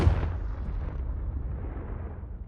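A Confringo blasting spell explodes in a Harry Potter video game with one heavy, deep boom at the start, then a rumbling tail that fades slowly over about two seconds.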